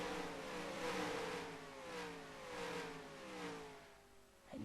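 A race car in an Indianapolis racing video game sweeps past with a steady high engine note that falls in pitch as it goes by, then pulses through gear changes before a sharp cut at the end, loud and without voices.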